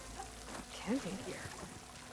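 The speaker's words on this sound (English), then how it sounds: "water's pouring out of that building" Water pours out of a ruined building in Horizon Forbidden West, heard as a soft steady rush under a brief spoken voice.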